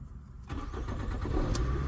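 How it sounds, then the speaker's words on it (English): A Toyota car with a previous no-crank, no-start fault turns over when the key is turned, then catches and settles into a steady, loud, close engine idle without any talk. "You know, this car has started."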